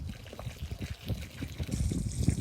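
Fish tank water laced with fish waste poured from a jug onto very dry garden soil, a continuous soft trickling and splashing that runs steadily throughout.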